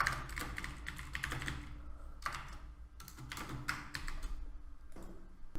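Quick bursts of keystrokes on a computer keyboard while someone types PHP code for a MySQL database. The clicks are close and crisp, in uneven runs with short pauses between them, and there is no talking.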